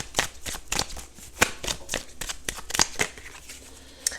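Oracle cards being shuffled by hand, a quick run of crisp riffling flicks and soft paper rustles, close and alone with no talking.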